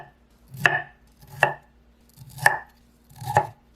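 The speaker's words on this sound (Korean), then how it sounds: "브로콜리 반 개는 작은 송이로 자를게요." Knife chopping broccoli into small florets on a cutting board, four distinct crisp cuts spaced evenly about a second apart, close and clear with no voices.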